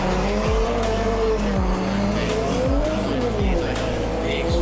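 A drift car launches off the start line on a wet track during an Irish drift series round, engine roaring loud and close with repeated rising gear pulls and tyre squeal throughout.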